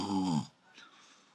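A voice imitates another man snoring with one deep, rasping snore, followed by a faint airy breath out and quiet room tone.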